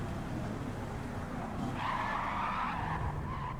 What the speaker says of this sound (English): Locks up rather suddenly.